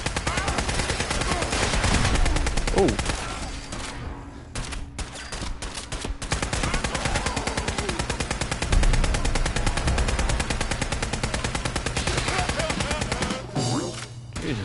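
Heavy Fallout 4 combat gunfire: continuous rapid automatic fire with overlapping bursts, loud and close, briefly broken by short pauses before the barrage picks up again.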